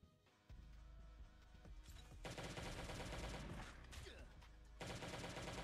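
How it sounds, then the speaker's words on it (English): Gunfire from the survival video game Last Day on Earth: Survival, fired inside a hardcore bunker: loud, sustained bursts of shots and explosive crashes fill nearly the whole stretch after a brief quieter opening, with a short gap before more fire. "Took a shot through the wall."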